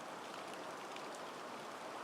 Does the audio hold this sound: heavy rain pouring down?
yes